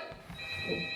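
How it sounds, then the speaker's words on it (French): A telephone rings indoors during a stage comedy, a steady electronic tone holding through a one-second burst at moderate level, with a faint murmur of voices beneath. "Ton téléphone sonne."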